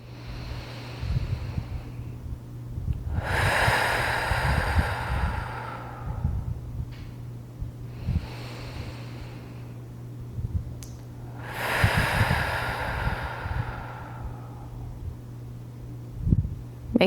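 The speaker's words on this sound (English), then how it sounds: "we're going to do 10 breaths here" Slow, deep breathing during a postpartum workout: two long, airy breaths close to the microphone over a low steady hum, separated by quiet pauses.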